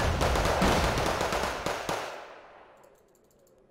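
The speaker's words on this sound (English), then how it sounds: "Those LCMs are also armed with machine guns. They're still shooting." Machine guns fire from LCM landing craft in Wargame: Red Dragon, a dense, rattling burst of gunfire mixed with distant booms that fades slowly into quiet.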